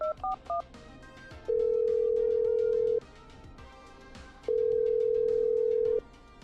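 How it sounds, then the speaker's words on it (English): A telephone in the video game Killer Frequency beeps through a few quick dialing tones, then two long, steady ringing tones separated by a pause. "Okay, I'm dialing."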